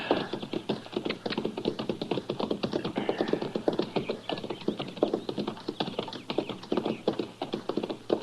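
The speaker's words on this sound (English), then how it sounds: "Now, that's horses down there, Chester." Horses walk with a brisk, steady clip-clop of hooves on hard ground, sounding dense and continuous throughout, close and fairly loud.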